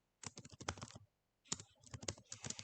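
Typing on a computer keyboard: two quick bursts of crisp, close key clicks separated by a brief pause, quiet and alone.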